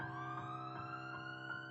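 Fire brigade and ambulance sirens wail continuously, a loud, rich, rising-and-falling electronic tone with rhythmic pulsing, heard alone with no talking.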